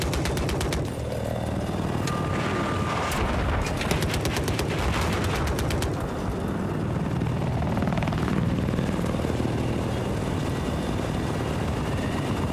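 A helicopter roars continuously and loudly in a 12v12 Battlefield 4 Conquest match, mixed with bursts of rapid gunfire and explosions throughout.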